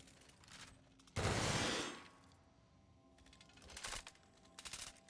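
Gunfire aboard the ship in The Outer Worlds video game, beginning with one loud, roaring blast and followed by quieter rapid clattering bursts of shots close by.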